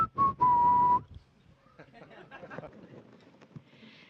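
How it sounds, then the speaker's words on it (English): Two sharp, shrill whistle blasts at a space shuttle crew news conference, a short one then a longer steady one, followed by background chatter and crowd noise. "Now Ron's got a whistle."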